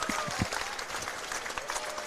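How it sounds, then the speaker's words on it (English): Crowd applause and cheering at a women's pairs lawn bowls semi-final at the Australian Open, a steady broad clatter of clapping with a few louder claps up close, running throughout. "And the crowd is erupted behind us."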